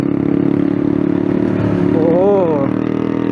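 A loud motorcycle exhaust drones steadily on a busy street in Matunga, Mumbai, a close, rumbling engine tone with a short rising rev near the end.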